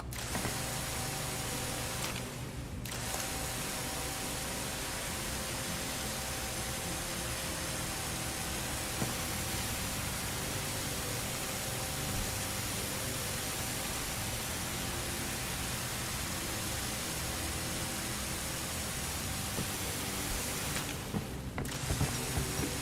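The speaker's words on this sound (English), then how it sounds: "Alright, I think it's time for a pressure washer." A pressure washer sprays nonstop in the video game Crime Scene Cleaner, a loud, even hiss that holds steady for over twenty seconds with only two very short breaks.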